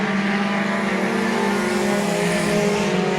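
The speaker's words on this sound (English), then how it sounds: "Drag race down the back straightaway." Race cars roaring down the back straightaway at Midvale Speedway on asphalt, a dense, loud, continuous engine drone with steady pitch, several cars running close together with no talk.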